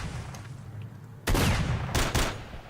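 Several loud, sharp bursts of gunfire in STALKER: Shadow of Chernobyl, a couple of quick reports close together over a low background rumble with faint distant shots before them.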